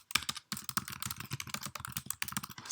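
Rapid clatter of keystrokes on a computer keyboard while a JavaScript code comment is typed, irregular bursts of close, crisp clicks with a brief pause near the start.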